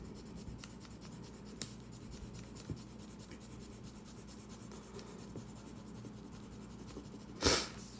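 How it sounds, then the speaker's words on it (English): Pencil or crayon steadily colouring in part of a textured fish drawing, a soft continuous scratchy rubbing with a few small taps, close and fairly quiet, ending with a brief louder scrape. "I'm gonna color this one in."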